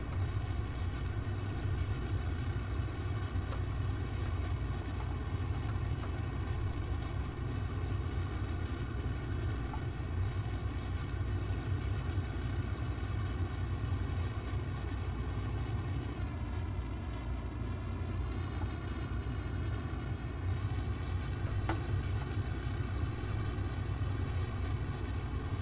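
Rocket engine roaring at deep throttle during a launch in Kerbal Space Program, a constant, dense low rumble with a steady tone layered on top, loud and unbroken throughout, no voices.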